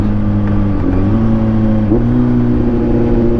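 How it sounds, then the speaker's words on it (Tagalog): A Kawasaki Z900 motorcycle engine hums steadily at close range, its pitch dipping and then climbing in short blips around each rev match, with no one speaking. "Yan, ganong rev match lang siguro."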